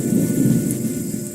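Heavy rain pours steadily while a low rumble of thunder rolls underneath, a dense continuous storm wash with no voices.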